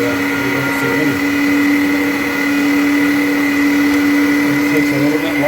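An electric meat grinder pushes beef chuck through a small-hole plate, a loud steady motor whine with a strong constant hum and faint irregular grinding texture, close and unbroken.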